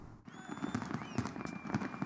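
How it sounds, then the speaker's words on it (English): Fireworks bursting at a night celebration at a music festival in Riyadh, with several sharp pops and bangs at roughly half-second intervals over a steady crowd roar, with faint whistling streaks overhead. "Fireworks lit up the night sky as revelers cheered and danced to the beats."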